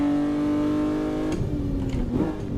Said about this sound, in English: tô com uma BMW M2 G87